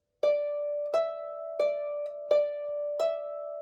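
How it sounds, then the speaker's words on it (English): A single plucked D note on a harp, repeated five times at an even, unhurried pace, each bright attack ringing briefly before the next, played alone and clearly. "we're going to play a lonely D, so it'll sound like this."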